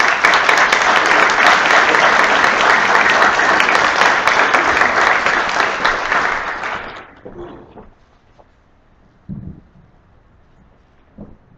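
Sustained loud audience applause greets Dr. Mary Wilson at a Truth and Reconciliation Commission talk, steady for about seven seconds before fading to a quiet room with a couple of soft bumps.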